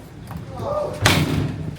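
A door slams shut with a single loud thud indoors at an old farmhouse during a storm, set among nearby voices and chatter.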